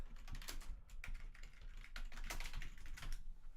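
Computer keyboard keys clatter in quick, uneven bursts, faint and close, with no talking.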